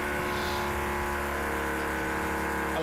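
A car passing close by, a loud, steady engine drone with a rising pitch that holds throughout without pause.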